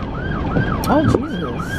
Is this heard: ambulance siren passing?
yes